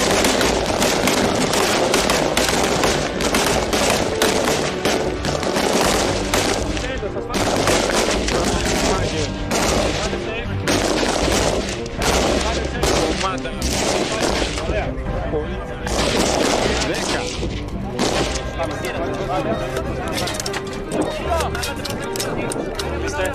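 Rifle fire at targets during special forces training at a Greek special forces training center, dense rapid volleys of gunshots from many shooters overlapping continuously, with voices audible among the shots.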